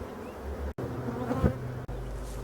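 Honeybees hum and buzz densely around an open, very populous hive, a close, continuous droning swarm with no talking.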